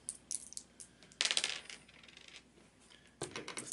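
Two dice rolled for a Warhammer Quest Silver Tower game, clattering and tumbling on a hard surface in a burst of sharp clicks, then a second rattling bounce toward the end, close and fairly quiet.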